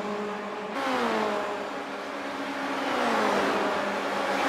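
Formula Renault race car engines at Bathurst in iRacing whine loudly and steadily, pitch falling and rising through a shift as two cars run nose to tail, with no voices.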